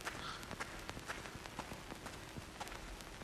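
Footsteps in the horror video game LIMB: Origins, a steady run of light, rapid thuds and taps over a constant dense hiss, moderately loud and fairly close, with no talking.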